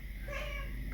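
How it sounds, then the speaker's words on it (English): Pet cat meowing for attention indoors, a single short drawn-out meow up close, fairly quiet over a low background hum. "I have another kitty who is asking for some more attention"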